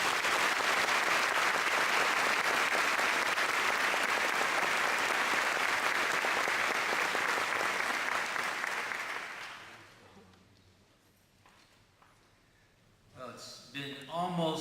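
Loud, sustained audience applause at a medical college convocation welcoming the osteopathic association president, a dense wash of clapping for about ten seconds that fades out before a voice begins speaking.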